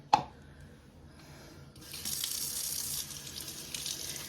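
Water running from a kitchen sink tap: a brief knock, then a soft trickle that swells into a steady, close gushing stream hitting the basin.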